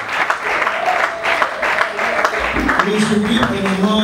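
A church congregation applauds and cheers in praise during a ceremony, sustained clapping and crowd acclaim at steady loudness throughout, with a voice rising over the noise near the end.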